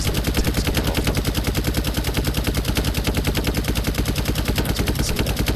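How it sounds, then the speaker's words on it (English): A twin machine gun on a vehicle in Brick Rigs firing at zombies, one loud, unbroken stream of very fast, evenly spaced shots that rattles on from start to finish. "the twin machine gun easily takes care of them"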